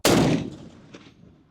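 An AK-50 rifle fires a single shot close by, a sharp loud blast that rings out and decays over about a second, with no talking.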